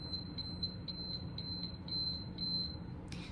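A visual kitchen timer's alarm going off, a string of evenly spaced high-pitched beeps that repeat rapidly over a faint background hum, fairly close and with no talking.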